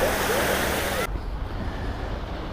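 Ocean surf washing onshore at a Caribbean beach, a steady broadband wash that stays loud and continuous, with wind buffeting the microphone and a sharp drop in hiss partway through.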